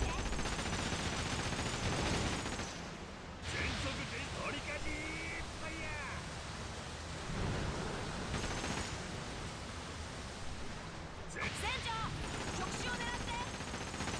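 Sustained rapid gunfire in a video game, aimed at a target, forming a dense, steady roar with short breaks, mixed under in-game voices.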